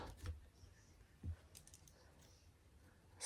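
Scissors snip through pom-pom yarn in a couple of short, close, quiet cuts, spaced apart over a faint background.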